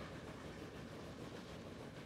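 Steady, quiet rumble and faint rail clatter of trains passing along an express route in the railway-building game Transport Fever, continuous and even throughout, with no voices.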